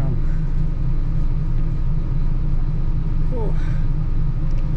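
Steady low bus engine rumble fills a ride away from the Indonesia-Malaysia border, loud and continuous with road noise, while a voice speaks briefly over it.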